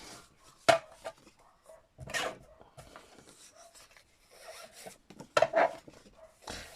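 Scissors chop up shiny paper and card pieces for an envelope journal, giving a few sharp snipping and rustling bursts spaced irregularly between quieter paper handling, close by and fairly faint.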